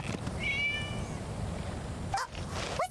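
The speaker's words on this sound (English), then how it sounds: "Oh, what's that sound? It was a cat, Paimon." A cat meows in the Genshin Impact video game: one clear, drawn-out meow near the start, followed by a couple of short chirpy sounds toward the end over quiet background noise.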